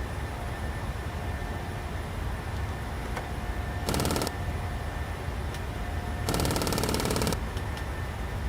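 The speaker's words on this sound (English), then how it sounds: "Ignore that, that's our stall warning." Stall warning on a Boeing 737-800: two loud, harsh rattling bursts, one short and one about a second long, cutting through a steady hiss of cockpit noise.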